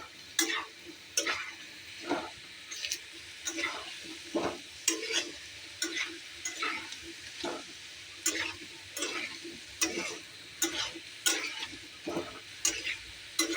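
Potatoes fry in a pan for a vegetable curry, with a sizzle running under repeated scraping stirs of a spoon against the pan in an uneven rhythm.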